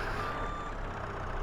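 Steady electronic reversing beep from a telehandler in the video game Farming Simulator 22, a single sustained tone over a low idling engine drone, close and even.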